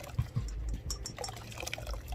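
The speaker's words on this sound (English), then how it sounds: "Get all this muscle and squish the coconut." Wet squelching and dripping as grated coconut is squeezed by hand to release coconut milk: soft, close, irregular squishes and trickles with no talking.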